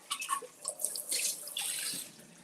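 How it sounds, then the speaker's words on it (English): Tap water runs over a cloudy glass carafe during a rinse, a close splashing stream with uneven gushes and spatter, no voices. "Let me just give it a good rinse."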